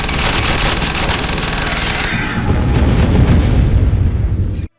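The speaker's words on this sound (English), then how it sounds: "And I unlocked the machine gun, which, due to the lack of crosshair, is essentially useless at anything except absurdly close range." A machine gun in a low-budget video game fires in a loud sustained burst, with rapid crackling shots giving way to heavy booming explosions before cutting off abruptly.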